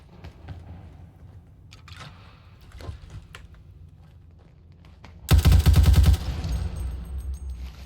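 A turret in Fallout 4 fires a loud, rapid machine-gun burst lasting under a second, cutting through quieter footsteps and scattered clicks and thuds before it, with a lingering rumble afterward.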